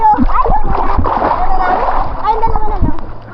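People jump into water in Masbate, making a loud close splash and churning slosh under excited voices of young people talking and shouting.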